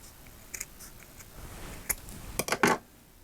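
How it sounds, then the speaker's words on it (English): Small scissors snipping through satin ribbon at an angle for a kanzashi flower petal, a few soft crisp clicks early on, then a quick cluster of sharper, louder snips near the end, close up and with no talk. "to cut the angle on the back, I'm going to go from the bottom corner to about midway up the back side"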